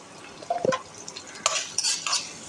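Onion and green chilli with salt being stirred in a pan, soft scraping of a spoon and light clinks against the pan over a faint low sizzle, close and quiet, with no talking.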